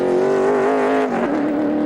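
A NASCAR Toyota Tundra race truck at Milwaukee pulls away after a restart, its engine a loud sustained whine that dips in pitch around a gear change, then climbs again.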